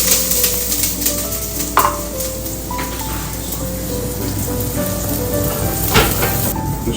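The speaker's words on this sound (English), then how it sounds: "So onto a hot pan, plenty of olive oil, plenty of chopped garlic that goes in." Chopped garlic sizzling in plenty of olive oil in a hot pan, a steady close frying hiss with faint stirring clicks, no talk, while prawn bouillabaisse is being cooked.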